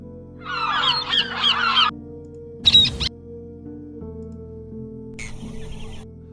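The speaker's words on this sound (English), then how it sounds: "I think I will go and find the sound of a seagull." Seagull sound effect with bursts of squawking gull calls: a longer chattering run, then a short sharp cry, then a fainter call, each separated by silence over a steady low hum.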